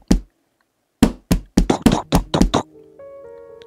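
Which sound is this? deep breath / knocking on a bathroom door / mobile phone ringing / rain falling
knocking on a bathroom door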